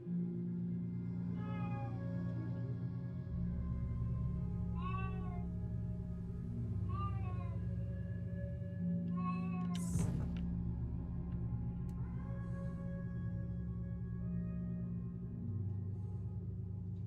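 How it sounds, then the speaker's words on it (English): A domestic cat named Miss Quackers meows several times in short separate calls, somewhat distant behind a steady low hum of game music, with a brief louder noise burst in the middle. "That's background kitty. That was Miss Quackers."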